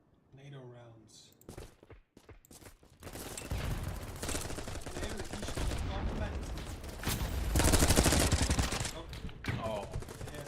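Video game gunfire shooting NATO rounds, with sustained bursts of rapid shots building over several seconds, fairly loud, and a voice speaking at the start.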